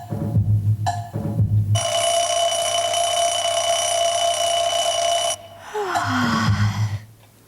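A little witch's alarm clock rings in one long, loud, continuous metallic trill lasting several seconds, bracketed by brief rustling and breathy vocal sounds before and after.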